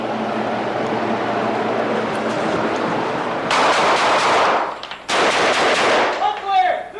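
Rapid bursts of gunfire from a high-risk tactical entry drill crack out in two loud volleys, the first after a stretch of rumbling ambient noise and the second following a brief pause, with faint voices around them.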